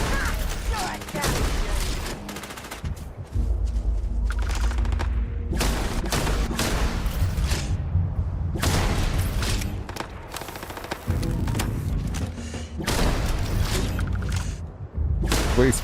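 Gunfire in the Starfield video game: loud, rapid bursts of shots and booms arriving in several clusters separated by brief lulls, close and dominant over the whole stretch.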